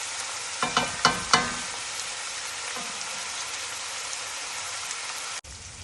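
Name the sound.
onions frying on the stove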